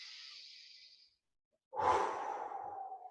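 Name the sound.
breathing out during stretch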